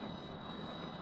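Propeller or jet plane in Kerbal Space Program stalling in flight, a steady broadband engine and wind roar held at even loudness with no voices over it.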